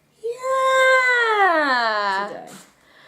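A cat lets out a single long, drawn-out meow that rises and then slowly falls, loud and close, lasting about two seconds before fading into quiet.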